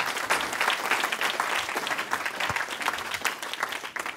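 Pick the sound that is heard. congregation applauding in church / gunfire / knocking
congregation applauding in church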